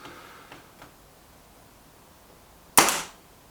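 A Kral NP-02 laminate air rifle fires one pellet as a single sharp, loud crack with a short decaying tail, after a couple of faint clicks from handling.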